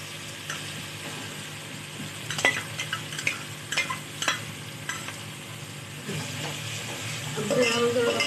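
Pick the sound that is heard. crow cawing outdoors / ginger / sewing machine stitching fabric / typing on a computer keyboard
ginger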